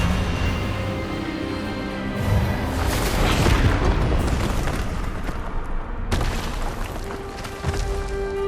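A spell is cast in the Hogwarts Legacy video game, a loud, dense magical blast with booming, roaring bursts that swell and sustain for several seconds, followed by a sharp new burst near the end.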